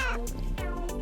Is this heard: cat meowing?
yes